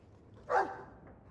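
A Mabari war dog in the video game Dragon Age II gives a single short bark or yip, close and moderately loud over a quiet background.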